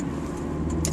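A car driving with an aftermarket blow off valve, a steady loud engine drone from inside the cabin with a sharp hissing whoosh near the end.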